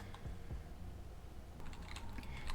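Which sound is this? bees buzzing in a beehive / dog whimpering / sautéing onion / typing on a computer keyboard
typing on a computer keyboard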